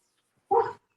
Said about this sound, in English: that's not his mean bark. That's his I'm having fun bark